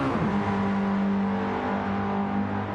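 A Mazda MX5 Cup race car crosses the finish line on a racing circuit, its engine a loud, steady, close droning roar that holds an even pitch throughout.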